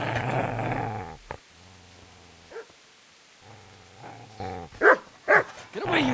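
A dog in the Kingdom Come: Deliverance video game growls low and steadily, then lets out a few sharp, loud barks near the end of the clip.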